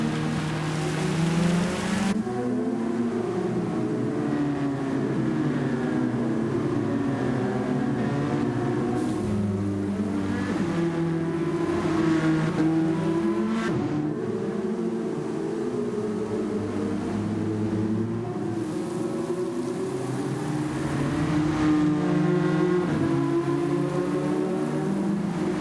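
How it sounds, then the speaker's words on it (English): Race cars lap the Tsukuba circuit in the rain: a steady wash of rain and spray mixed with the drone of passing engines that rises and falls, continuous throughout, with no voices. "we're at Tsukuba in the rain. Drivers will have about 15 minutes to put down their fastest lap"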